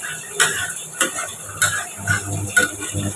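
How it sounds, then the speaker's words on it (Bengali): Panch phoron, bay leaves and dried chillies tempering in hot oil, with a soft crackle and a few sharp pops and clinks of a spatula against the pan, close and fairly quiet. "এবার ফোড়ন দিয়েছি, পাঁচফোড়ন, তেজপাতা, শুকনো লঙ্কা"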